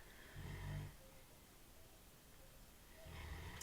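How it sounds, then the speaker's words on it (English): A man snores softly while a tarot reading goes on, with two low, rasping breaths, one near the start and one at the end, separated by quiet. "that's him snoring"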